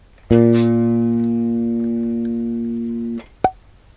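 One plucked bass guitar note, A on the G string, rings out clearly and steadily for about three seconds, then stops abruptly with a small click after.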